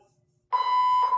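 An apartment building fire alarm sounds after a moment of quiet, a loud, piercing electronic tone held steadily and close, then briefly dipping before continuing.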